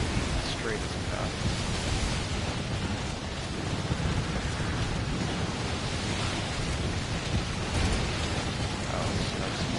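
Howling snowstorm weather in a PS4 video game, a dense, steady roar of wind-like noise filling the whole stretch with no breaks.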